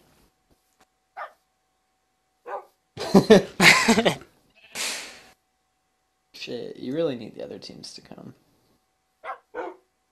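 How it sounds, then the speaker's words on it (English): Dogs in the game Minecraft let out a few short, sharp barks, spaced apart, around someone talking. "their dogs are blocking the hole."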